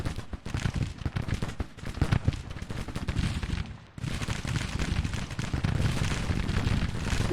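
Rapid carbine fire crackles in dense, overlapping volleys during a Civil War battle in a video game, with a short lull just before four seconds and then a steady roar of shots.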